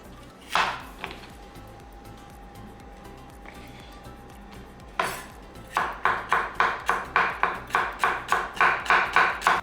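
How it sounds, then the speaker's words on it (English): A knife cutting paprika on a cutting board: a couple of separate knocks first, then a fast, even run of about a dozen sharp chops close to the microphone, with a faint tonal hum in between. "And now I'm cutting paprika"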